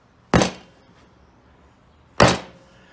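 Two sharp, heavy slaps ring out as a lump of ceramic clay is thrown down onto a table during wedging, each a loud thud with a short fading tail, about two seconds apart in a quiet room.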